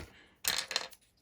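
Keyboard keys dropped into an old Tesco cookies and cream tub give a brief, close clattering rattle that lasts about half a second, then settles into quiet.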